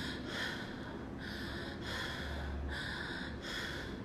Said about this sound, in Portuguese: Se eu estiver só respirando